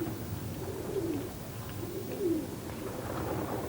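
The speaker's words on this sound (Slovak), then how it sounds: "K obyvateľom zamurovaného mesta patria aj holuby, presnejšie povedané," Pigeons kept by residents of Kowloon Walled City make low soft coos, a couple of murmuring calls over a steady background hum.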